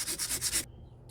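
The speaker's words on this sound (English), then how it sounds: "Let's sand that and see how good I did." Quick back-and-forth sanding strokes on a metal sunflower pendant, about five rhythmic rubs close up, then a sudden stop into near silence.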